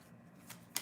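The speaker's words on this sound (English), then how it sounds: "I'm going to shuffle, get you a card from the Angel Answers Oracle deck" An Angel Answers Oracle card deck is shuffled quietly in a calm room, with a soft ongoing riffle and a brief crisp flutter of cards near the end.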